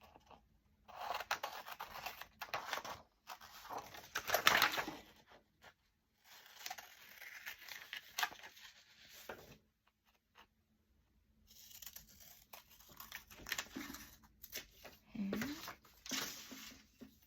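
Paper window frames for a journal being cut out with scissors, a series of close, crisp snipping and rustling bursts separated by short pauses.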